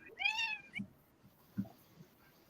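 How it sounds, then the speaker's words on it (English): A house cat meows for attention, a couple of faint high drawn-out cries up front followed by soft thumps and quiet room noise. "his cat is demanding attention right now"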